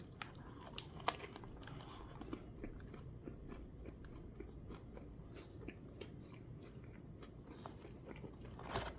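Someone bites and chews a Burger King Whopper topped with a fiery mozzarella stick, with repeated close crunches and wet mastication in a steady, quiet rhythm.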